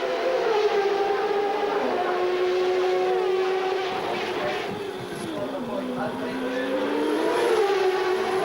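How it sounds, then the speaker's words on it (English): A 1994 Formula 1 car in warm-up at Monaco screams as it accelerates up a steep hill, its high engine note climbing steadily, dipping briefly, then rising again, loud and continuous throughout. "There we see the car accelerate up the hill, a very steep hill indeed."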